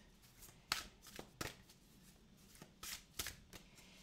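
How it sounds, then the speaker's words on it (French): A new oracle card deck is shuffled by hand in a series of crisp riffling bursts, close and clear, separated by short quiet pauses. "Je bats bien les cartes"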